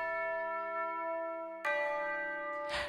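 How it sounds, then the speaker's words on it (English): A school recess bell rings in a video game, clear sustained ringing tones that hold steady and then jump louder partway through before a brief burst of noise at the end, with no talking. "The recess bell interrupts our conversation"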